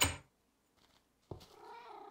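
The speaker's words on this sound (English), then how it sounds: "Oh, hello, cats." Cats in Minecraft: a short burst opens, followed by a near silence with faint blips, then a clear, drawn-out meow that trails off.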